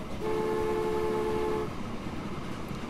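A train in the Transport Fever video game sounds its horn in one sustained tonal blast lasting over a second, set over a steady rumbling rolling noise that carries on after the horn stops, with no talk.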